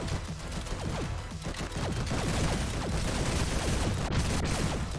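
SMG fire in the fast shooter GTTOD: Get To The Orange Door, rapid streams of shots mixed with mechanical clicks and sweeping effects, loud and nearly continuous.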